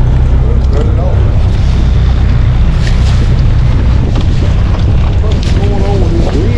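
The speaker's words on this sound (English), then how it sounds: "What's going on with this wind over there?" Strong wind buffets the microphone on a boat on the Neuse River while catfishing, a loud continuous roaring rumble with gusty swells throughout.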